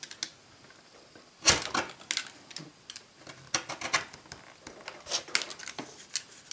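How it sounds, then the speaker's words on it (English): A Stanley knife slices and shapes foam in scattered short scratchy cuts, irregular and close, separated by quiet pauses. "Stanley knife will go through this"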